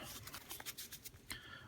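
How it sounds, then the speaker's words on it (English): Playing cards from a Magic: The Gathering Commander deck being shuffled by hand in a quick informal lazy shuffle, a run of soft papery riffles and slides close up, with bright crisp bursts repeating irregularly over a low background murmur. "So just shuffle the top half of the deck"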